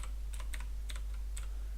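Scattered keystrokes tap on a computer keyboard, a handful of light separate clicks over a steady low electrical hum, with no talking.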